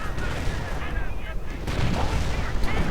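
Rocket artillery in a World War II strategy video game lets loose a continuous rumbling barrage of launches and blasts, loud and close, with a voice talking faintly underneath.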